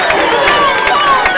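A football crowd at a 1993 high school playoff game cheers and roars close by, a dense wash of voices filling a brief moment, with an announcer's voice faintly mixed in.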